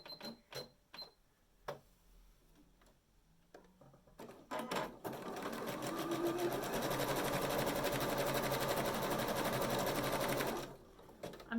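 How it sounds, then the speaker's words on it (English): A sewing machine runs a continuous zigzag stitch in white cotton along the top edges of mini felt stockings, preceded by a few scattered clicks and handling knocks, then a steady loud whirr for about six seconds before stopping. "I just need to run a zigzag stitch along the top edge of them all"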